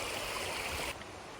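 A creek flows with a good strong current as a water source on the Pacific Crest Trail, a steady close rushing wash that cuts off abruptly and leaves a quieter trickle.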